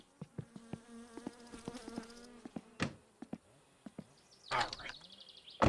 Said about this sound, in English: I had been using the mosquito spray, and they still have that incessant buzzing